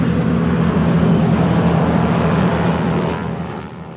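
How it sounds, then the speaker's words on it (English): A Mitsubishi A6M Zero, Japan's World War II fighter plane, drones steadily with a loud, rough engine and propeller roar that eases slightly toward the end. "The Mitsubishi A6M Zero, Japan's renowned World War II fighter plane"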